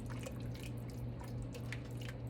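Creamy chicken, kale and wild rice soup being stirred in a pot gives thick, wet squelching and dripping sounds in an irregular rhythm, close and fairly quiet over a low steady hum, with no talk.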